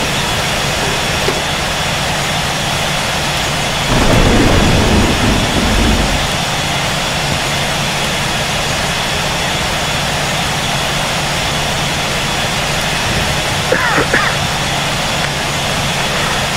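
An airliner's jet engines spool up for takeoff from Kuala Lumpur International Airport in Real Flight Simulator, a loud steady roar with a brief surge and a faint click partway through, filling the whole stretch.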